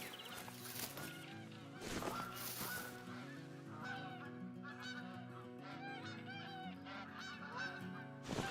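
Geese honk repeatedly in theHunter: Call of the Wild, a cluster of nasal calls at middle distance that overlap with steady ambient game sound and have no speech over them.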